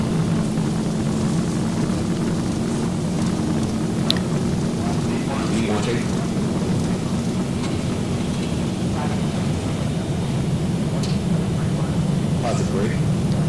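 Twin engines of an American Airlines airliner at takeoff thrust on a flight out of Orlando, a loud, steady roar with a constant low hum and rushing wind, heard from inside the cockpit with occasional voices under the noise.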